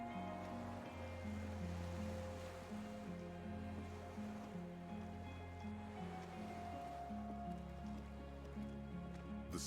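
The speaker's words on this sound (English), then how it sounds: "The skiff is swaying on the waves by the dock." Waves lap against a gently swaying skiff moored by a dock in the video game Disco Elysium, a steady watery wash under a low sustained musical drone throughout.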